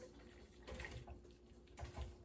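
Hot chicken stock pours from one stockpot into another, making a continuous splashing, gurgling stream of liquid close by with a few heavier sloshes.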